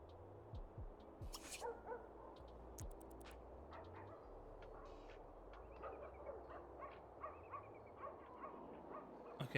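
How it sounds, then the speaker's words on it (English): Several dogs barking and yipping on a residential lot in The Sims 2, scattered short barks and whimpers at varying distances over a soft background, with no talk. "So many dogs attracted to your lot."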